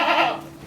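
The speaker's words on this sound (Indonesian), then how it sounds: "domba-domba ini domba sayur, domba biasa" One close, loud bleat from a sheep kept on a small farm, rough and wavering for about half a second before fading, with no talk over it.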